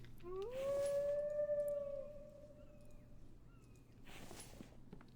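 A wolf howls in the survival video game The Infected, one long rising then steady howl that fades out, over a low constant hum and soft ambient noise, with no talk.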